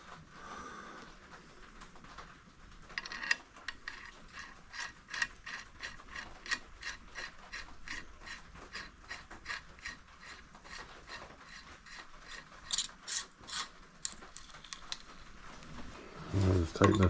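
Threaded cap being tightened down over the top bearing race of a bicycle headset, a steady run of close, rhythmic ratcheting clicks and metallic scraping with a few louder knocks near the end.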